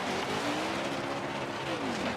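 A NASCAR stock car in the NASCAR Heat 4 video game revving hard during a burnout, a loud sustained engine whine climbing and then dropping in pitch.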